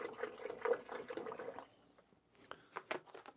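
Water is poured into an espresso machine's reservoir, a close splashing trickle for about a second and a half, then quieter scattered drips and small sloshes.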